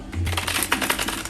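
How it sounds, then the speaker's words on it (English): Tarot cards being shuffled by hand, a short close burst of riffling, clattering card noise with brief uneven slaps. "As you guys can see, I'm a terrible shuffler."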